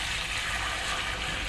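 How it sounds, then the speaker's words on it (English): Homemade beef broth poured into a strainer, a steady continuous splashing rush of liquid, close and fairly even throughout with no talk. "Okay, so we're pouring it into the strainer."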